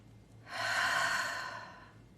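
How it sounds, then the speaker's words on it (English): A single long, airy breath drawn in and released over about a second and a half, close and clear against quiet, with no talking. "Let's take a breath."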